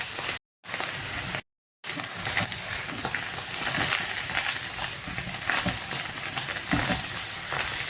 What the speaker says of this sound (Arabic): هنبتدي دلوقتي ننزل بفصين الثوم